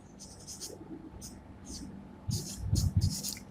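Pen scratching on paper in short bursts of writing strokes, fairly close and soft, while someone talks over it.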